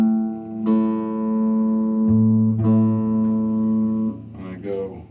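A guitar's D string is plucked during tuning, sounding slightly flat: sustained ringing tones with a second pluck about two seconds in, and a voice talking briefly at the end.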